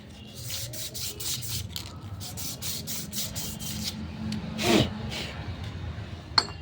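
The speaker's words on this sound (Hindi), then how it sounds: "इस तरीके से करके इस ड्रम को हमने घिस लेना है। जिससे पकड़ बन जाए।" Scraping and sanding on the clutch drum of a TVS Ntorq BS6 scooter to roughen it for grip, heard as a steady repeated rubbing with short bursts, close by, with a loud scrape near the end.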